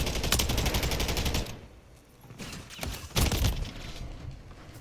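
A remote turret fires sustained automatic bursts in a Call of Duty Modern Warfare III match: loud rapid gunfire for over a second, a brief lull, then renewed heavy shooting and booms.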